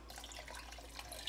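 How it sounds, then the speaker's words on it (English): Two cups of water are poured into a thickening chowder roux of chicken, bacon and corn, a faint, brief, steady splashing pour over a low hum. "now I'm going to go ahead and add in my 2 cups of water"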